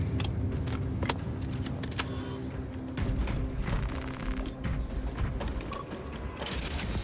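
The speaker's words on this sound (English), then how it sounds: "Changing magazine." A Space Marine 2 video game weapon reload, with a string of sharp metallic clicks, rattles and ratchet-like clacks as the magazine is changed, over a busy mechanical background.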